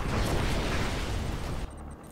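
A Mammoth tank is destroyed in Command & Conquer 3, heard as a loud, sustained explosive roar with crackling debris that ends abruptly into quieter game ambience.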